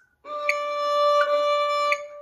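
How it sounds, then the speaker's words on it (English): A single ringing harmonic note played on the D string of a fiddle, clear and sustained for about two seconds, fairly quiet and heard alone. "Our first note is a harmonic."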